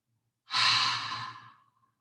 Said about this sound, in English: as you exhale, exhale as if you're going to try to fog a mirror